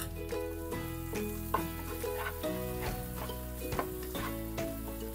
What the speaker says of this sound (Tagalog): Gisa lang natin yan ng mga 1 minute.